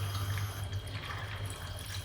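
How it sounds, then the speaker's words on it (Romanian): Soaked gelatin sheets being squeezed out beside milk heating on the stove, giving a faint, continuous watery trickle and drip over a low steady hum. "Trebuie să le și stoarcem de apă"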